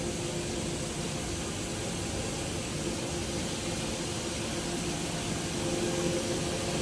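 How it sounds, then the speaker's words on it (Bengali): Yarn knitting machines running in a large fabric knitting factory in Narayanganj, Bangladesh, a dense, steady mechanical roar with a faint hum, constant and unbroken throughout. "সুতা বোনার কারখানা।"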